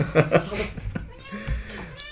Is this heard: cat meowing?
yes